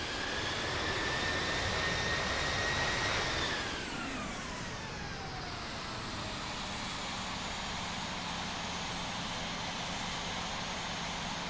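Jet airliner engine roar in the Infinite Flight simulator as an Air India flight taxis, a loud steady whine that drops in pitch a few seconds in, then settles into a lower continuous hum.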